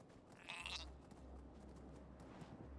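A goat's bleat from the game Elder Scrolls Online, one wavering cry early on over a steady low game hum, fairly faint.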